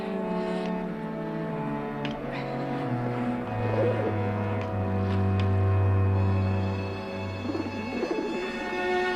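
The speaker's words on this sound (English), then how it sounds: "Dad, it's only a pigeon." A pigeon cooing near a rail in a 1982 television drama scene: soft repeated throaty coos over a steady low tonal drone, mid-distance, with no speech heard.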